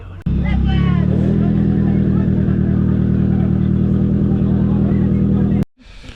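A 500 hp Nissan S14 drift car engine roars loud and close as it pulls away, a steady heavy rumble with rising revs that holds for about five seconds before cutting off abruptly.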